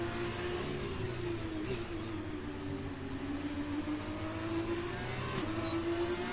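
Formula 2 race cars in a PC racing game at a night race on the Singapore street circuit, a continuous droning engine whine that holds steady with slight pitch shifts, no voices.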